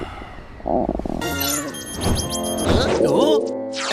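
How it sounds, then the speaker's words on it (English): Cartoon stomach growl, a long, wobbling, low gurgling rumble that swells and bends in pitch over several seconds, joined by whistling and squeaky comic effects, with a cartoon voice speaking over part of it. "It's my stomach growling."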